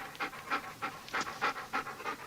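A dog pants rapidly after running 23 miles, a steady run of quick, rasping breaths about three per second, close and clear with no talking.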